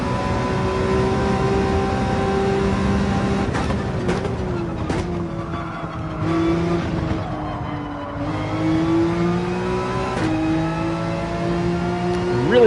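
A race car in Gran Turismo 7 holds a steady, droning engine note through gear changes and revs, with brief tire squeal as it slides across the track.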